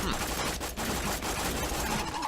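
Dense automatic gunfire from a weapon in Borderlands 2 rattles loudly and continuously, a constant wash of shots with no clear gaps.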